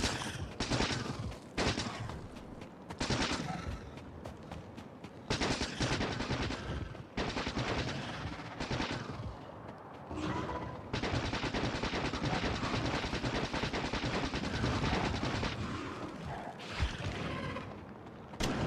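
Dense, continuous machine-gun fire from the factory-building game Factorio: Space Age, loud rapid bursts with brief pauses between volleys, sustained close up throughout with no talking.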